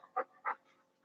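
A female Australian Shepherd panting close by, two distinct quick breathy huffs followed by fainter breathing, with no talk over it.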